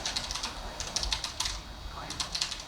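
Quick, light keystrokes tap on a computer keyboard in an uneven, steady patter, close up, with a faint voice nearby.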